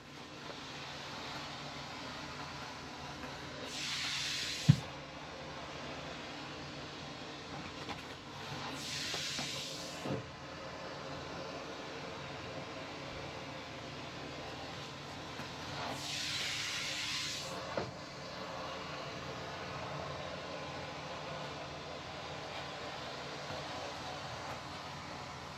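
A steam cleaner blasts dirt with three separate bursts of breathy hissing spaced several seconds apart. Soft background noise runs between the bursts, and there is no talking.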